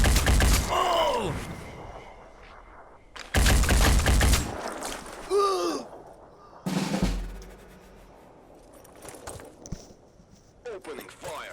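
Gunfire bursts in the video game Phoenix Point, loud cracking volleys in several separate bursts with gaps between, alongside a voice talking.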